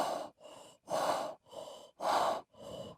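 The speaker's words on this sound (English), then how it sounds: "only broken by the low panting as of some animal close to me" An animal pants low and close by, six breaths alternating between heavier and lighter, each a soft rasp separated by short pauses, with nothing else heard.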